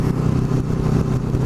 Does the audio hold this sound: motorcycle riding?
yes